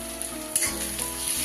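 Onions with salt and turmeric fry in a pan for a masala bhola fish curry, giving a steady, close sizzle with a soft clatter partway through.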